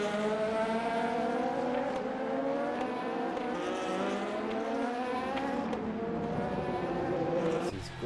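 Simulated race cars, including a Porsche, battling for position at COTA in Le Mans Ultimate, several engines droning and shifting pitch together at steady volume, with gear changes and an overtaking car's note rising and falling throughout.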